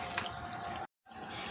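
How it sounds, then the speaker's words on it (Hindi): A little water poured into a plate in a kitchen while mutton kadhai is being cooked: a steady close splashing stream, then a brief gap and more flow. "ये थोड़ा सा पानी इसमें प्लेट में ले लिया और इसे इसमें डाल देंगे"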